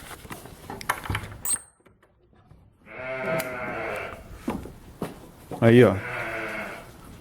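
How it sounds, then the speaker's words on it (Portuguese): Sheep bleat in a small backyard field where a ram is kept, two drawn-out wavering bleats nearby, with a person speaking casually in Portuguese before and between them. "A gente tem algumas ovelhas aqui."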